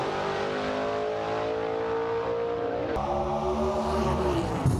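Gasser drag race cars at a Southeast Gassers event in Knoxville roar down the strip with steady, loud engine drones, the pitch sliding and shifting near the end as they pass, with no voices heard.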